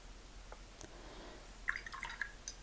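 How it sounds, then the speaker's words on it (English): Water drops fall into a tray of watercolor paints, including Quinacridone Magenta and Ultramarine Blue, giving a few faint close drips and small splashy taps with no talking. "Just getting them activated, throwing a bunch of drops of water in there"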